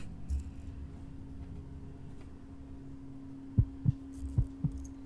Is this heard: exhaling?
no